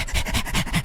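A dog pants nearby in quick, rhythmic breaths, several in close succession, clear and fairly loud with no voices over it.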